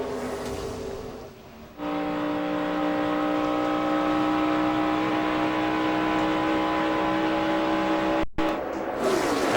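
NASCAR stock cars at Daytona in the 2009 Coke Zero 400 roar past in a loud, sustained engine drone from the pack, with a brief cut near the end.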